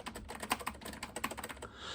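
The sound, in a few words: typing on mechanical Apple ADB keyboard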